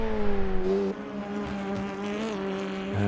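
Alpine race car from a sim racing game at the 24 Hours of the Nürburgring, engine droning loud and steady with rising and falling pitch as it shifts, a brief dip near one second, no talk.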